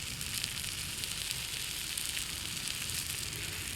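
Sauce sizzling and crackling steadily in a crowded frying pan over a campfire at a winter bush camp, a continuous close hiss without pauses and no talk.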